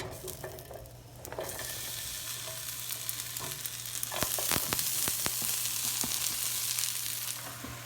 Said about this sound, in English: just chopped up some onion here and mushrooms. We're gonna go saute this